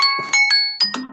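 A short electronic bell chime marking the end of a quiz answer period, a few clear bright tones in quick succession, loud and close with no talk.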